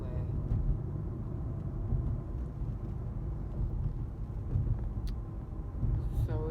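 Steady low road rumble from a vehicle cruising along a freeway while hauling, continuous and fairly loud with no breaks and no voices.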